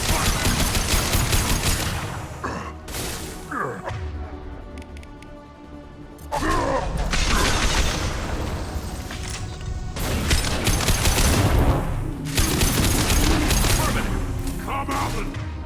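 Heavy gunfire in Mass Effect II, sustained bursts of automatic shots and thumping impacts that swell and fade across the clip, with a voice talking over the combat.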